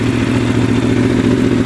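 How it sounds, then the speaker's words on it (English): A 2022 Aprilia RSV4 Factory sport bike, previously stored, fires up from cold and settles into a loud, steady, throbbing idle with a mechanical clatter, close and unbroken by speech. "Let's give it a cold start."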